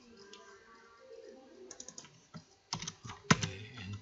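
Computer keyboard typing while working in an Excel spreadsheet, with scattered key presses building into a quick cluster and a firm Enter press near the end, close and clear without any talk.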